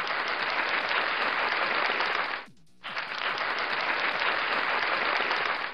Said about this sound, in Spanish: Ahí te van los aplausos